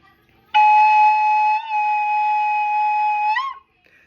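A soprano recorder holds a single bright G sharp for about three seconds, then squeaks upward briefly as the note ends, close and clear with no talking.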